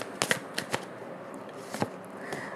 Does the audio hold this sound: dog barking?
no